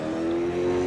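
A Super 2 race car with no rear brakes leaving the pits at Townsville, its engine a loud, steady drone held for under a second.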